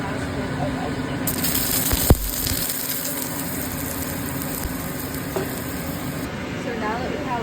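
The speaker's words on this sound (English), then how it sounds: "Now we go in with more canola oil and just move it around. And then we add our last bit of eggplant." Eggplant frying in canola oil in a pan gives a steady close sizzling hiss, with a sharp clunk of utensil or pan partway through, while a person talks quietly over the cooking.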